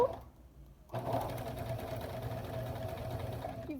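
A home sewing machine runs a straight stitch (topstitch) along fabric for a French seam, starting after a brief pause and then whirring steadily and evenly, close and fairly quiet.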